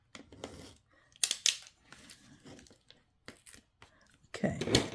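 Scissors snip through paper in several short, crisp cuts with crinkling and tearing between them, close up, ending in a louder burst of paper handling.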